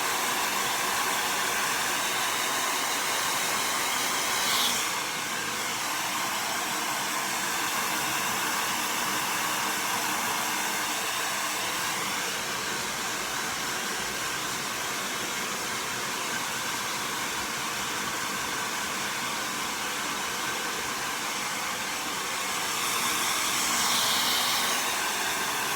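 A hair dryer blows hair dry in a loud, steady, close roar that holds for the whole stretch, with slight shifts in tone as the airflow moves around.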